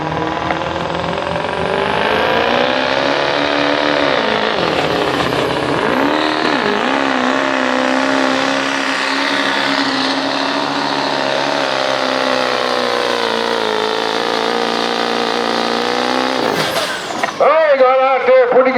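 A street diesel pickup truck hauling a sled at a truck pull show, its engine roaring loud and steady as revs climb and hold for a long pull, with an announcer talking over it.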